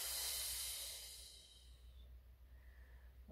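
A long breathy exhale during a Pilates mat exercise, close and airy, strongest at the start and fading into quiet room noise, without speech.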